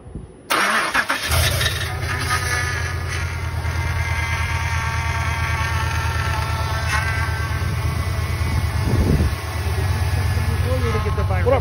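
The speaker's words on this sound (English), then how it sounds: "Now we're gonna start it up and see what happens." A 2005–2008 Pontiac Grand Prix GXP engine cranks and catches, then settles into a loud, steady idle with a persistent whine, just after a power steering pump replacement.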